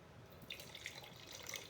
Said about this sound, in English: So we're gonna pour this wine.